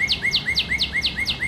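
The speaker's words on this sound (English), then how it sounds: "Cardinal" Cardinal song: a rapid series of about eight clear, whistled downslurred notes repeating at an even pace, close and distinct with no voices over it.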